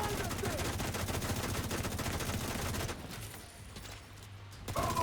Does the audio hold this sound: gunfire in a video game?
yes